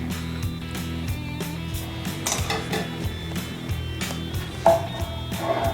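Kitchen utensils rummaged through in search of a slotted spoon: clattering, clinking metal pieces and dishes knocking together, irregular and close, with a sharper clank near the end over a faint background hum.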